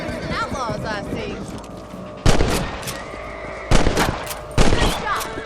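Rifle shots crack out in Red Dead Redemption while hunting rabbits, three loud, sharp reports spaced about a second apart, over game sound and someone talking.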